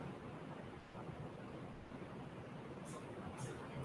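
Rain falls outside a shop as a faint, steady hiss and patter with a low rumble, continuous and distant.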